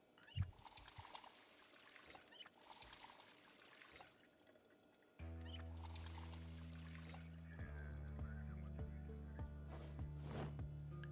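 Water pours and trickles into containers in the Project Zomboid survival game, a soft steady stream that changes pitch as each vessel fills, heard alone with no talk.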